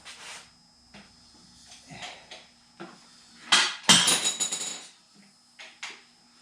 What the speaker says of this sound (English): Now I'll just turn over the block a bit.